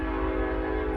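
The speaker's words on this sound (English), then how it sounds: "Oh, here comes a train." A train going by, heard as a steady, loud rumble with a sustained horn-like tone holding throughout, no voices over it.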